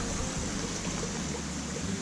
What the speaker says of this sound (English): lovely river